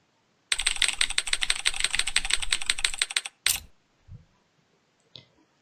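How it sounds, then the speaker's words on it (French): Rapid keyboard typing in the video game NCIS Shadow Strike runs in a dense, steady burst for about three seconds, then comes a louder single click and a few faint taps, close and with no talking. "Je dois utiliser le clavier pour rechercher"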